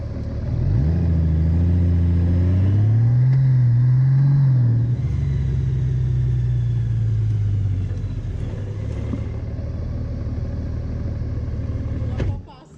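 A Honda car engine downshifting through the gears, a loud close rumble whose pitch climbs and drops with each shift before settling into a steady drone, while someone talks over it.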